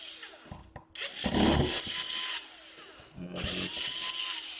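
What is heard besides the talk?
electric screwdriver unscrewing laptop screws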